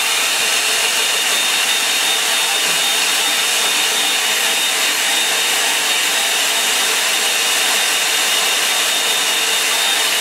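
A hair dryer blows on a watercolour painting of two figures by a lake, making a loud, constant, close whooshing drone throughout with no breaks.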